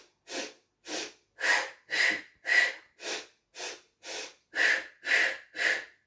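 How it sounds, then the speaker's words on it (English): Rhythmic breathing during the Pilates hundreds exercise: eleven short, sharp breaths through the nose in a steady, even pulse, close and clear with silence between each. "our breathing can go in intervals"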